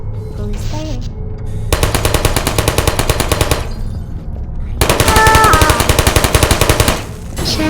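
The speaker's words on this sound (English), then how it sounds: "That's the one that was shooting at us." A sentry turret in the video game Portal fires in two long bursts of rapid, evenly spaced machine-gun shots, loud and close, with a short pause between the volleys.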